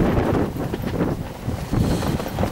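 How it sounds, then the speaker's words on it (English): Gusty wind buffets the microphone at a carp fishing peg at Islands Carp Fishery, a loud, continuous low roar that swells and dips with each gust, with no other sound. "I apologise if there's wind noise on this bit, guys, but can't get away from the wind today"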